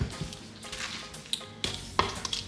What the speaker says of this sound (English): Before it gets all hard, I wanna fold it.